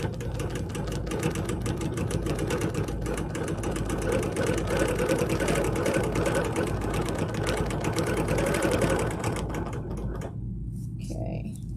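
A sewing machine runs continuously, stitching with a steady rapid whir for about ten seconds before stopping, while someone talks over it.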